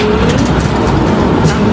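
Tram number 21 departs from a stop in Frankfurt, Germany, near the Messe Frankfurt trade fair, with a loud, steady broadband rumble and rolling wheel noise close by and no talking.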